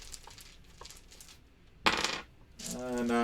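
A handful of dice clatter onto a table during a solo play of the board game Roll Player Adventures, a sharp rattling burst followed by a short tumbling roll, close and clear with no talk.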